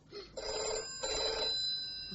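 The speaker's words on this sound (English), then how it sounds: "The phone's ringing." A telephone rings indoors in two clear bursts separated by a brief pause, a bright electronic trill at moderate level with no voices over it.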